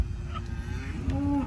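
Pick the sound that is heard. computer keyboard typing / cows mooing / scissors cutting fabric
cows mooing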